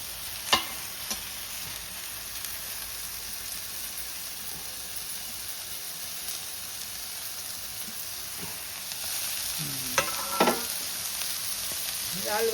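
Kurdu greens and green chillies fry with softened onion in oil, giving a steady, even sizzle that runs throughout, with a few brief clinks of stirring and no talk.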